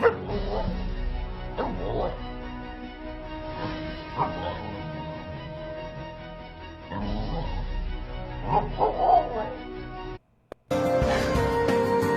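A dog video plays with a dog yipping, whimpering and barking in short bursts over steady background sound and talk-like voices, ending with a brief cut to silence and then a louder, brighter noise.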